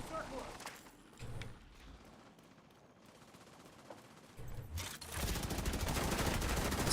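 Gunfire in The Division 2 crackles in bursts over a game soundscape, building into a dense, sustained loud volley near the end, with voices talking underneath at times.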